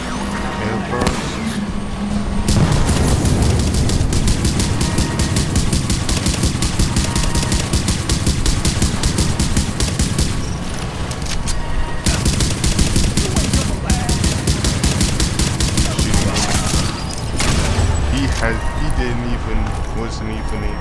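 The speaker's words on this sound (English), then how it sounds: "Throwing my airburst." Airburst grenade blasts and gunfire from The Division, heard as a loud, dense, continuous barrage of rapid shots and bursts with brief lulls around the twelve- and seventeen-second marks.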